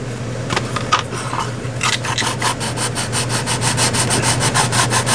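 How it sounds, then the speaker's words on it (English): Resin edges being sanded down with a straight-edge file board: steady rasping strokes that grow into a quick, even back-and-forth rhythm, close up and fairly loud over a low constant hum. "It don't take long to sand that resin down."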